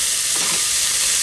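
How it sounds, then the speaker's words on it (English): Chopped spring onions fry in a hot pan, giving a constant close sizzling hiss with a short shuffle of stirring midway. "I'm going to fry these for a couple of minutes"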